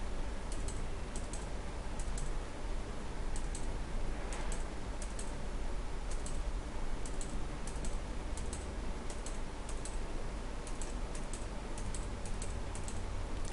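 Close computer keyboard keystrokes tap in uneven bursts while text is erased, light plastic clicks repeating for several seconds over a steady faint hum, and nobody speaks.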